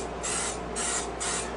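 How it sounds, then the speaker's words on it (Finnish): Three short bursts of cooking spray hiss steadily onto a pan in a home kitchen, close and fairly loud, with brief pauses between sprays. "pitäis löytää vähän tämmöstä sprayta, kun pannaan tähän, ettei se ota niin hirveästi kiinni"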